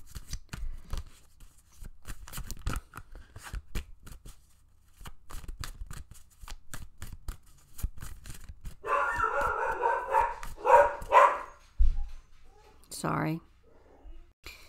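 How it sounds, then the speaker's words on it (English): Cards shuffle and snap close by, then a dog's excited barking bursts out in a short series of loud barks, followed by one sharp yelp, with a person speaking briefly. "My son just came home, so the dog's going crazy."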